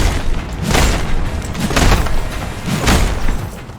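Heavy booming explosions in the Mad Max video game, several loud rumbling blasts rolling one after another over dense background noise.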